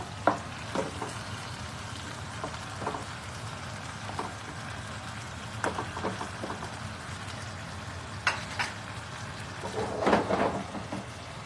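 Chicken penne pasta with bacon and peas sizzling and frying in a pan, a steady soft crackle punctuated by scattered clinks and stirring knocks of utensils against the pan.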